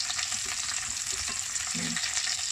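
Enoki mushrooms sizzle steadily in a hot pan, with a few soft scrapes and clicks from stirring breaking through the continuous frying hiss.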